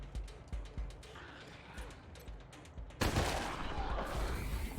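Gunfire in the video game Wasteland 3: a string of sharp, separate shots gives way to a dense, sustained burst of rapid fire, with some talk faintly underneath.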